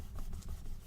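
A hand or tool rubbing firmly over glued paper in a junk journal, a short close scratchy friction lasting under a second, heard alone.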